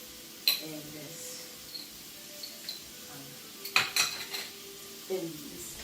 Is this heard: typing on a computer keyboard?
no